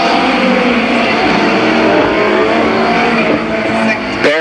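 Midget race cars roaring through turns 1 and 2 at a speedway, a loud dense continuous engine drone with layered revving as cars pass, fading slightly near the end.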